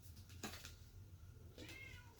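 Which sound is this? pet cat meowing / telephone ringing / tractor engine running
pet cat meowing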